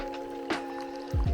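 A water filter bag squeezed by hand while backpacking at Bandelier National Monument, giving a soft squish midway and a couple of low wet gurgles near the end, close and quiet over a steady hum.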